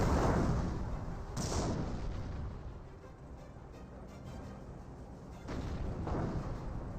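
Anti-tank gun fire and explosions in Company of Heroes, a World War II strategy game, with a Panther, grenadiers and Sherman tanks among hedges; heavy booming blasts roll through at intervals over a continuous rumbling battle din.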